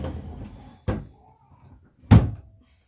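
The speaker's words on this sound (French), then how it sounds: "je ferme la porte" A door being shut indoors, heard as two distinct thuds about a second apart, the second louder, after a trailing bit of low background sound.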